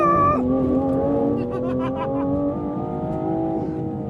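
A 2025 Aston Martin Vanquish V12 launches from a standstill under launch control, its engine note climbing hard through the gears as it accelerates, loud and close with a steady powerful roar.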